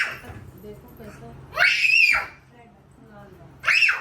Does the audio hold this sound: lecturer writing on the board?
no